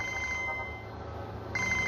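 A telephone rings in a steady electronic trill, a single long ring broken by a short pause before it starts again, fairly quiet against a low background hum, with no voices.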